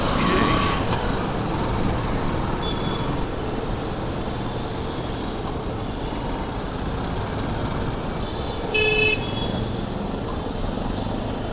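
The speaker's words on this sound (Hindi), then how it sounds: "बहुत ट्रैफिक है भाई, मुंबई में ट्रैफिक ना हो पॉसिबल ही नहीं है।" Heavy street traffic rumbles steadily through Mumbai, a constant broadband roar of engines with a few brief car horn toots near the start and again later. No one talks.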